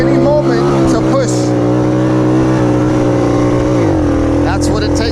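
A 1969 Honda Trail CT90 motorcycle labouring through quicksand, its small engine droning loud and close at steady high revs, then dropping in pitch near the end, with a voice briefly over it.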